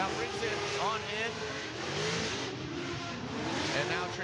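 BMW E36 race cars scream through the gears at a track event, engines revving high and climbing through upshifts in a steady, loud roar while a commentator talks over the action.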